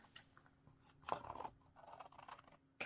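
Scissors snipping through card for a handmade greeting card, a few quiet close cuts with small crisp clicks and rustles, faint and sparse over a low background hum.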